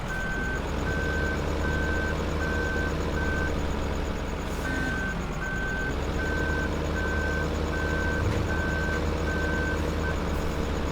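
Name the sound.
New Holland loader running in Farming Simulator 15 video game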